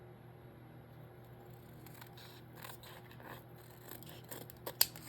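Scissors cut the sides and seams off a paper journal page: quiet, close snipping and scraping that builds to a couple of sharp, crisp cuts near the end, with no talking.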